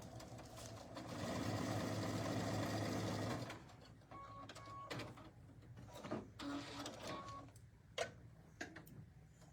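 A sewing machine stitches across placemat fabric in a steady, rapid mechanical whir for several seconds, then stops, followed by quieter clicks, handling taps and fabric rustles.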